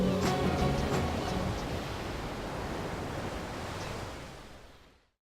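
Ocean waves washing onto a beach make a steady broadband roar, dense at first, then settling into an even surf hiss before fading out near the end.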